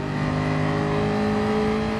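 A race car engine in Gran Turismo Sport holds a loud, steady, droning roar throughout, its pitch climbing slightly as it accelerates, with no voices over it.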